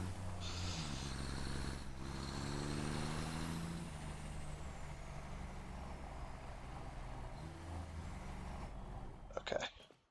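A truck drives in the Satisfactory video game, its steady, droning engine rumbling continuously at moderate volume, with faint voices murmuring underneath and a brief clatter near the end.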